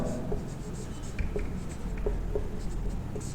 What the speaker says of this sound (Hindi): चलिए फ्रेंड्स, लिखते हैं